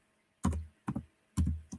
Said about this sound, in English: Again, I'm typing with one hand.